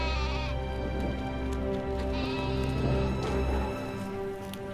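Sheep bleat repeatedly inside an animal stable, with drawn-out, wavering cries that overlap one another over a steady background hum.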